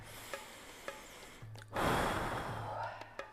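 A deep breath taken during a vinyasa yoga flow, heard as a strong, close inhale-exhale swell of breathy air lasting over a second, with faint soft clicks around it.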